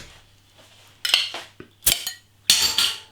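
A Uiltje Bird Of Prey IPA bottle being opened: a few close metallic clinks and scrapes of the opener on the cap, ending in a bright hissing release, with no talking.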